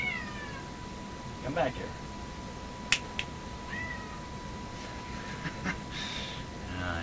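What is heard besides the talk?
cat meowing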